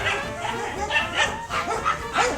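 Maxwell the dog barks repeatedly in short yappy bursts at a neighbor's dog, the barks and yips close and fairly loud over a steady background hum.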